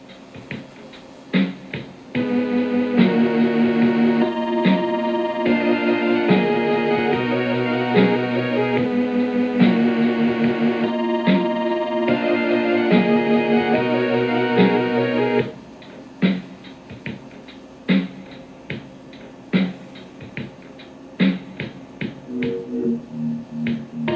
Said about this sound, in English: I played some music through them and it didn't sound half bad